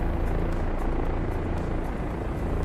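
A helicopter in flight in a video game, its steady rotor thrum and engine roar holding loud and constant from start to finish with no talking over it.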